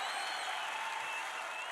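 A large crowd at a Trump MAGA rally in Council Bluffs, Iowa cheers and applauds in a steady, dense roar of clapping and shouting, heard from a distance with no pauses.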